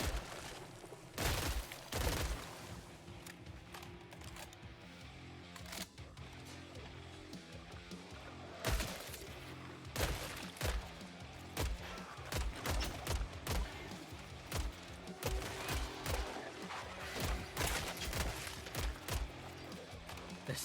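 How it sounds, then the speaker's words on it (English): Burst-fire gunshots from a rifle in the video game Killing Floor 3, loud repeated clusters of sharp cracks spread across a steady background of game noise, with longer pauses between some volleys. "So it looks like the default fire mode is burst fire."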